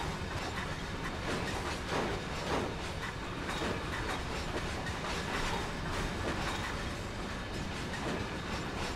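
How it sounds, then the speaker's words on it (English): Diesel-electric train slowly reversing into its shed in the Train Sim World game, a dense steady rumble with faint clickety-clack of wheels and hiss, no talk. "as we slowly watch this train reverse back into its shed"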